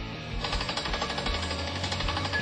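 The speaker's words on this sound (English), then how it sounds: "We have a drill rig here today" A drill rig pounds steadily at a brownfield site while taking soil and groundwater samples, giving a continuous rapid hammering rumble, loud and close, with no voices.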